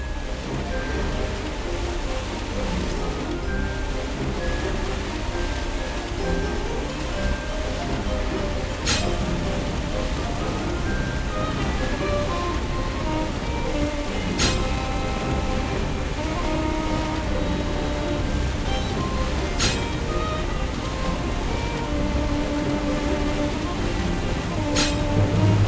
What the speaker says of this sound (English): A waterfall.